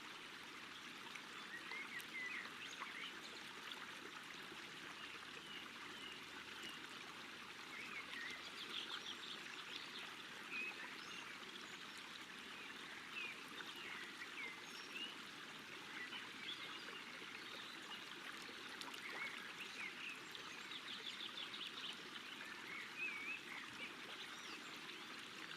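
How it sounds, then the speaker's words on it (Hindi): A river stream flowing steadily and evenly all the way through, with faint birdsong scattered over the rushing water and no voices. "आप नदी के किनारे बैठे हैं और आपके पाँव नदी के ठंडे ठंडे पानी में है।"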